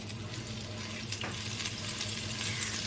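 Oil and butter sizzle in a hot pan, ready for searing steak, a steady close crackling hiss with a low hum underneath and no speech.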